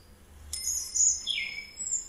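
Chirping bird call from a cuckoo-style clock, two short bright tweets about a second apart, close and clear with no talking.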